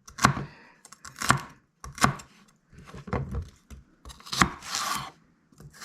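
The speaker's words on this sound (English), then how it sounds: "It is satisfying, slicing down the middle of a piece of celery" A kitchen knife cuts celery into small soup-size dice on a cutting board, giving sharp, crisp chops in an uneven rhythm of about eight to ten strokes, close and clear with no talking.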